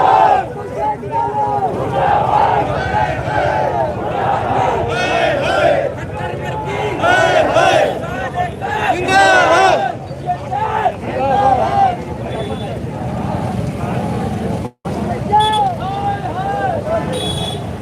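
A large crowd of protesting farmers marches toward a police station, a loud, continuous babble of many voices and shouts close by, with chanting swells rising and falling throughout.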